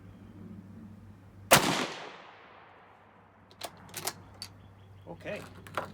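A single loud rifle shot from a 1917 U.S. Enfield or 1898 Argentine Mauser, a sharp crack with a ringing decay outdoors, followed by faint clicks and handling noises.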